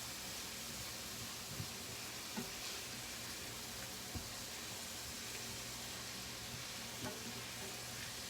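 Vegetables sizzle steadily in a pan while being sautéed with salt and pepper for a taco noodle casserole, a constant frying hiss with occasional soft clicks of stirring.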